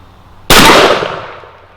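A Rossi Tuffy .410 shotgun fires a single triple aught buckshot load outdoors on a range, a sharp loud blast followed by a decaying echo.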